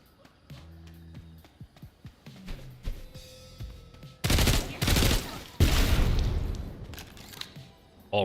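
Gunfire from a gun called the Ghetto Blaster in the video game SULFUR: a few scattered clicks and thuds give way to loud, rapid bursts of shots in two clusters, close and sharp, with no talking.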